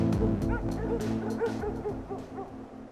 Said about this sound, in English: you're getting pulled by a bunch of dogs up a hill, like laying on this dog sled